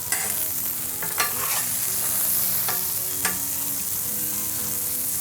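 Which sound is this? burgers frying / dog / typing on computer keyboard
burgers frying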